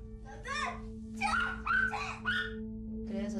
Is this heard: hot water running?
no